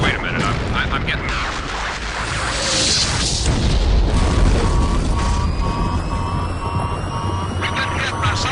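Game aircraft taking ground fire and going down in Dark Reign 2: loud rumbling booms and blasts, with a descending engine whine, all under a speaking voice for the whole stretch.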